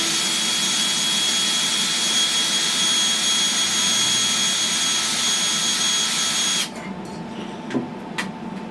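A power driver screws a service panel into an Initial D arcade cabinet, whining steadily and loudly for several seconds, then cutting off into a few small clicks and knocks.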